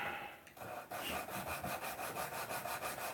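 Hand sanding with fine grit paper around 1500 to 2000 grit, a steady rhythmic rasping of back-and-forth strokes, close and fairly loud, following a brief pause near the start, with no talking.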